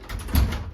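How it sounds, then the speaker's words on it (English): A door is opened toward the person and then closed during a daily-living skills task, producing a brief, close thud and soft latch sound within under a second. "now you could open door towards self and then close door towards self"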